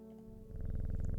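A cat in the video game Strange Horticulture purring, a soft low rhythmic rumble that begins quietly and swells to a steady, close pulse for about a second.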